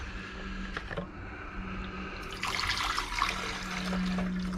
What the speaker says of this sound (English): So now I'm going to put some hydrochloric acid in there and put it on the boil for at least an hour.